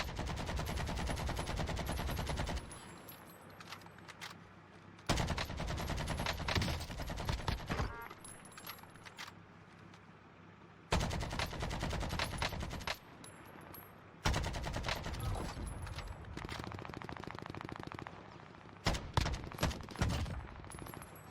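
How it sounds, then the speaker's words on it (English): AK-47 fire in Call of Duty Warzone, heard as loud, rapid automatic bursts in several long strings separated by short quieter gaps of ambient game noise. "He doesn't hit all his shots with the AK-47 from that point."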